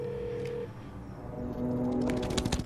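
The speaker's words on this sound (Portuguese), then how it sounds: "seu irmão vai até o telefone e liga para a fazenda de aranhas" Telephone dialing in a dubbed film scene, a brief run of steady tones and button presses over a murky room background, growing busier toward the end.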